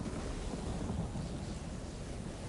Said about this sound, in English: Get out of there or the lightning will destroy you!